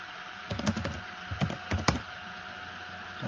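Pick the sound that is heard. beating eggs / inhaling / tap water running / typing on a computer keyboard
typing on a computer keyboard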